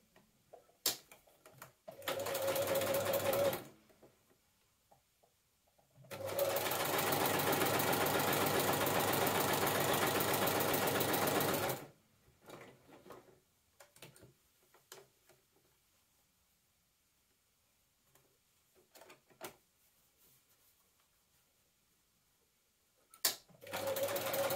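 Domestic sewing machine stitching stretch fabric for a dragon cosplay dress, with stops at the points: two bursts of loud, fast whirring rattle, a short one and then a long one of about six seconds, separated by quiet handling clicks and taps.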